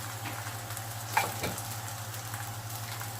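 Msemen flatbread, a folded Moroccan pastry, sears in a very hot pan with a steady close sizzle and a few soft scrapes, no voices.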